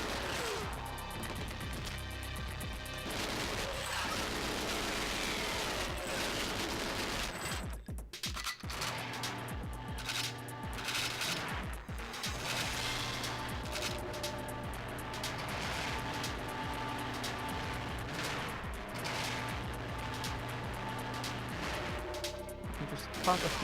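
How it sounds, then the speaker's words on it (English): Gunfire in the game Goldeneye 007, with bursts of shots and crashes over busy game sound effects and music. "Just pop a few shots into there."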